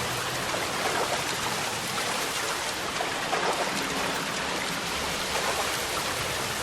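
Water rushing into a flooded area in the L.A. Noire video game, heard as a steady, dense wash of pouring, stream-like noise that holds at an even level throughout with no voices.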